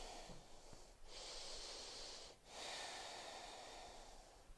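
Deep breathing during a yoga rest, two slow drawn breaths in and out, close and soft, with no talking.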